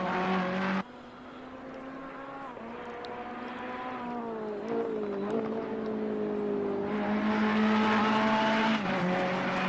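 A simulated GT race car laps Zandvoort in Assetto Corsa Competizione, its engine droning flat out and sweeping up and down through gear changes for nearly ten seconds, steady and moderately loud with no voices over it.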